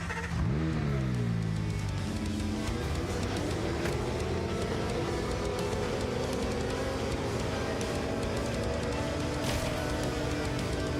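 A Porsche's engine revs hard during a test drive in the video game GTA, climbing steadily in pitch and holding at a loud, sustained roar, close and continuous throughout.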